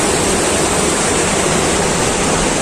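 Sea waves roll in at Mandarmani beach with a loud, steady broadband wash of surf. It runs unbroken for under three seconds, with no distinct single breaks and no voices.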